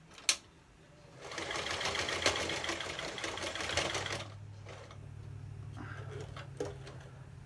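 A sewing machine stitches a nylon-stocking face mask in a sustained, loud, rapid mechanical run of about three seconds, followed by a quieter low hum and a few faint clicks.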